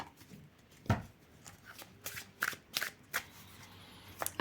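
A deck of love and truth cards being shuffled by hand, with crisp riffling bursts and soft card slaps repeating irregularly at close range with no talk.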